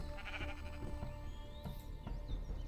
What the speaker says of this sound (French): Et j'ai même un mouton.